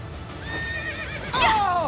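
A horse whinnies in Fire Emblem: Three Houses, a rising and falling neigh that swells loud near the end, with faint game sounds underneath.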